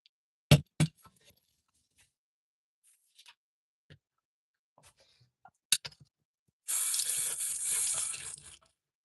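A few sharp clinks and taps of brushes and jars at a sink, then a tap opens and water runs loudly into the basin for about two seconds while paint brushes are rinsed.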